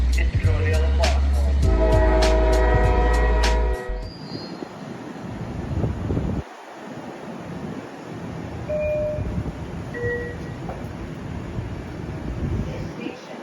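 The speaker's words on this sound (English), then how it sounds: "This is the train to Babylon." A Long Island Rail Road commuter train bound for Babylon, heard from onboard or the platform: a loud rumbling approach with a squealing, whistling tone that drops away into steady rolling wheel noise and faint chimes, with a voice in the background.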